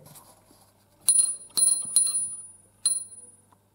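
A church tower bell tuned to C7 in a bell chamber in Desio rings with four sharp, high metallic strikes, each leaving a clear shimmering hum that decays before the next.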